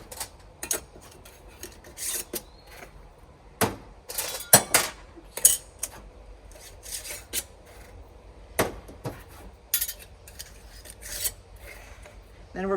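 Metal canning rings being screwed by hand onto lidded jars of meat for pressure canning, giving a series of short raspy scrapes and clinks at close range in a quiet room, with occasional pauses between turns.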